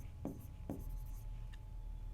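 Chalk writes on a classroom board as a perpendicular line is drawn in a geometry lesson, with two sharp scratchy strokes followed by fainter marking, close and alone.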